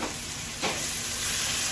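Chicken breast pieces frying in a hot pan, a steady loud sizzle with a brief stirring scrape partway through, no voices.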